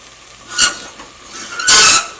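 Egg kurma curry is stirred in an open pressure cooker, two quick scraping strokes of a spoon through the thick sauce, close and clear, the second longer and louder.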